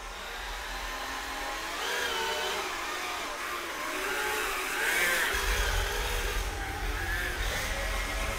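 Custom RC Sherp amphibious vehicle driving, its electric motor giving a steady whirring drone that swells slightly midway, close and continuous with no talking.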